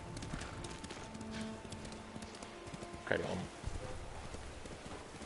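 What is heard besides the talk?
horse hooves clip-clopping, from video game Ghost of Tsushima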